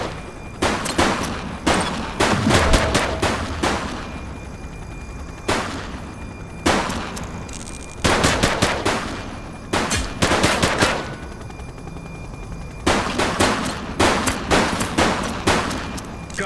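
Police gunfire in The Precinct, loud repeated bursts of rapid automatic shots and single cracks separated by short pauses, with no talk over them.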